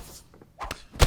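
A knockout punch lands in the UFC 5 fighting game: a few soft thuds of lighter blows, then a heavy, close, booming impact thump at the end.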